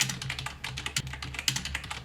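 Rapid, irregular clicking of a computer keyboard as someone types code in VS Code, close and steady, with no talk.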